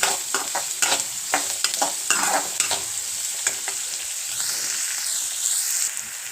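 Chopped onion sizzles steadily in a hot pan for a drumstick fry. A spoon stirs and scrapes it in brisk, repeated strokes, up close with no talk.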